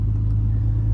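A turbocharged BMW ZHP engine idles steadily, a deep, even rumble with a strong low hum that stays constant and close throughout.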